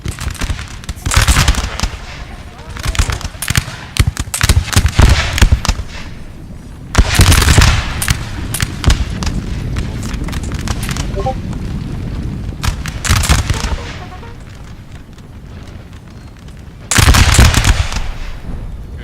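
Dense musket volleys crackle and boom through a large Napoleonic battle in Napoleon Total War, with loud surges and lulls of massed gunfire and rolling blasts, heavy and continuous throughout.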